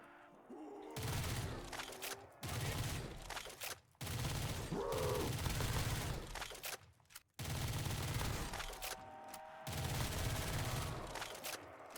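An M4 rifle fires long, sustained automatic bursts in a Call of Duty Black Ops 3 custom zombies map, loud and close, broken by brief pauses between strings of rapid shots.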